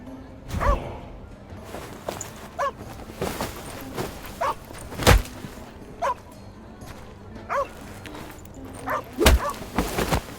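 A dog in the medieval video game The Inquisitor barks in sharp, spaced bursts with whimpering between them, moderately close, over a quiet low background hum.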